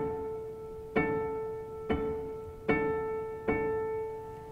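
String harmonic at the third partial of a D string: four separate, quiet, bell-like tones are plucked at an even, unhurried pace, each ringing clear and slowly fading before the next.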